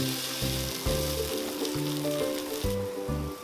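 Butter chicken omelette cooking in butter in a pan after being flipped, a steady close sizzle and crackle of frying, with low tonal hum patterns pulsing beneath and no speech.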